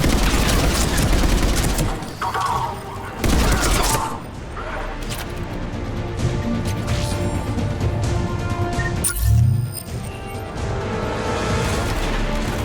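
Heavy gunfire and crashing impacts from an enemy mounted gun during a firefight in Mass Effect 3, loud bursts and booms recurring across the scene while a voice speaks over the battle.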